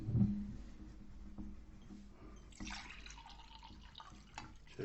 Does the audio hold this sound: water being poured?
yes